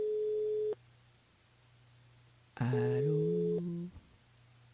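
Telephone line tones during a call-out to a listener on a French-language radio show, a steady held tone that cuts off, then a louder burst of tones and a short greeting as the call connects.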